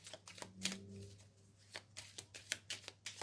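Tarot cards riffled and drawn by hand close up, a run of quick papery snaps and slides with soft shuffling between, in a quiet room with no talk.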